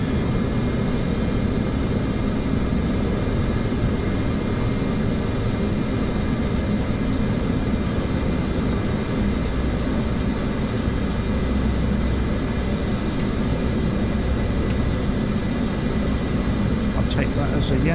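A simulated airliner taxis in Microsoft Flight Simulator 2024, its engines holding a steady, loud, broadband drone throughout with little change in pitch.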